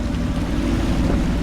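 River water in the game Dishonored rushes and washes in a steady low, close roar, briefly and with no voices.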